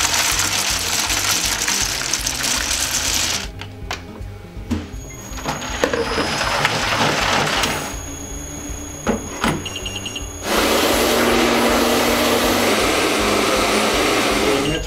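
Pastry machine running a chocolate ganache program: a loud steady motor whir with sloshing, shifting through several tones and pauses, then a louder, brighter hum near the end, no speech.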